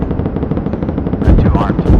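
Rapid automatic cannon fire from a gunship in the Project Gunship video game, a fast rhythmic burst of shots with a heavier, louder volley near the end.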